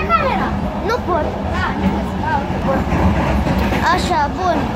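Steady rumble of a moving train heard from inside a carriage, a constant low drone with faint rattling throughout, under nearby conversation.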